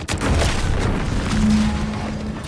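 An explosion in The Outer Worlds 2 booms loudly, a deep rumbling blast that fills the clip and rolls on with a sustained low roar and a faint tonal hum.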